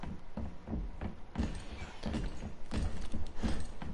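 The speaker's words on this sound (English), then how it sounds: "you hear them big ass footsteps? Mr. T is coming from me" Heavy, measured footsteps of Mr. X thud one after another in Resident Evil 2, a steady rhythm of deep, moderately close impacts with no talking over them.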